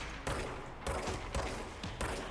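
Video game Control: loud automatic gunfire comes in four sharp bursts at a steady rhythm, with short reverberant gaps between them.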